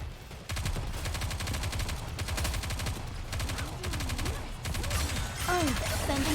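Sustained automatic gunfire from the video game Nikke: Goddess of Victory rattles in dense, rapid bursts, loud and continuous with brief gaps, and game sound effects sweep in near the end.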